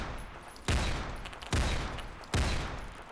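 Three loud, evenly spaced shots from a DMR sniper rifle in the Roblox game Phantom Forces, each a sharp crack with a decaying tail, fired in quick succession.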